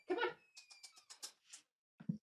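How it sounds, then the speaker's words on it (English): A barn cat vocalizing nearby, a string of short, soft chirping meows in quick succession, then a brief pause and one last low call. "There's my cat."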